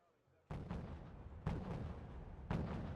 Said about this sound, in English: Go back to our mortar.